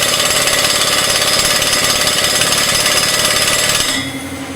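A loud air impact wrench rattles continuously for about four seconds while loosening rotavator blades on a John Deere 5105D tractor, then cuts off abruptly.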